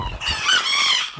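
An Old English Game Bantam chicken in a backyard setup among trees, making a drawn-out, crow-like call close by, loud and rising through the middle before trailing off.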